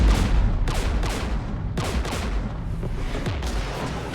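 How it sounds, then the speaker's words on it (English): Gunfire in the Mass Effect video game during a fight with Geth forces, several loud booming bursts at irregular intervals over a constant rumbling battle din, no voices. "We're taking fire."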